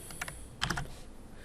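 Computer keyboard keystrokes pressing a Control minus shortcut, two small bursts of quick, close clicks, with a faint steady background hiss.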